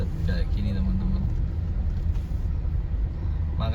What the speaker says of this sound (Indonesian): Macet teman-teman, rame teman-teman. Kaliwungu Kota macet teman-teman.